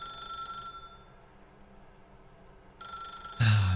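A video game telephone rings in a short electronic burst, cuts off into near silence, then rings again before a louder thump at the end.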